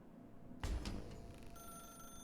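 A telephone rings in The Stanley Parable, a steady electronic bell that starts abruptly and holds under a faint, hushed room ambience, with no talk over it.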